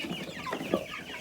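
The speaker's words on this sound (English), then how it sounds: "We've moved all the chicks over in the other sheds." Chickens in a shed cluck softly and close by in a short burst of a few low, throaty calls over faint background noise.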